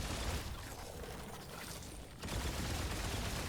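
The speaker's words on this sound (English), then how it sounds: "As you can see, it started firing faster and even faster." Corrupted weapon from Remnant 2 firing in a dense, continuous stream of rapid shots that grows more intense, with a brief dip before resuming at full loudness.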